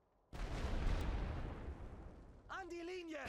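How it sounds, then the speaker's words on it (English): A light artillery rolling barrage in Total War WW1 booms out as a sudden loud explosive rumble that slowly fades, followed by someone talking over the dying roar. "I'm using that rolling barrage from my light artillery to help cover the advance this time"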